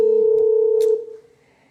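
Telephone line tone at the start of an incoming call on a live call-in show, a steady single sustained tone lasting about a second before cutting off into near silence.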